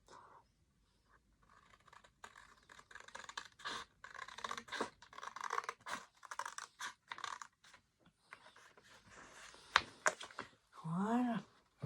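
Scissors snip and scratch through a printed image being trimmed for a baroque frame, with irregular clusters of short cuts and paper rustling, followed by a voice talking near the end.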